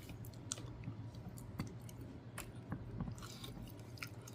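Someone chewing jumbo shrimp from a seasoned Walmart seafood boil: soft, wet, squishy bites and faint clicks close to the mouth, quiet under a low steady background hum.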